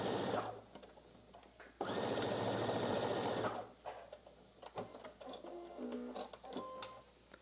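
A home sewing machine stitches a dress shoulder seam with reverse back stitching, two loud sustained motor runs separated by a pause, followed by quieter clicks and handling sounds.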